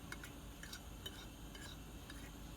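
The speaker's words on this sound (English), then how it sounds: "I'm going to take a fork. I'm going to mix this seasoning." A fork stirs and mixes seasoned flour in a bowl for Cajun fried pork chops, giving a steady, close scraping and light clinking of metal against the dish throughout, with no talking.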